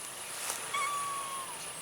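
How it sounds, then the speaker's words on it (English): A cat up in a pear tree outdoors gives a single drawn-out, rising-then-falling meow, slightly distant and moderately faint, with no talking over it. "Which cat is talking to me?"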